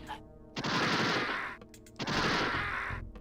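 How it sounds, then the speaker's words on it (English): Light gun shooting in a PlayStation video game: two long bursts of dense, loud gunfire-like blasts from game audio, separated by a short gap, with a low tonal hum running underneath. "Yeah, so you have light gun shooting"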